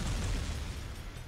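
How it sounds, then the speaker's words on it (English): Grenades explode in the game Jak II, a dull, muffled low boom that swells at the start and then fades over about a second, with no talk over it. "Where are all these grenades coming from?"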